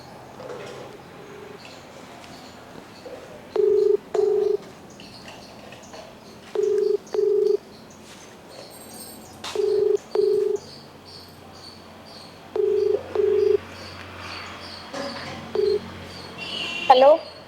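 Telephone keypad tones beep in repeated pairs of short dual-tone bursts over several seconds while a call to a government school headmistress is placed, with faint background voices and insect-like chirps underneath.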